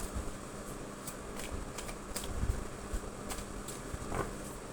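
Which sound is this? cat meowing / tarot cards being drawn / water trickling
tarot cards being drawn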